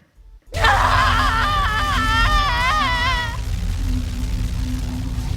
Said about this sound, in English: Diana began to scream, arcing her spine and throwing her head back